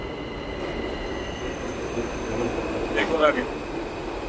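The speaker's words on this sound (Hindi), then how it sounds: "ये आ गए भाई न्यूयॉर्क के वर्ल्ड फेमस सबवे स्टेशन पे। ये आ भी रही ट्रेन," A New York subway train pulls into the station, its steady rumble rising with wheels squealing near the end, while a voice speaks briefly over the noise.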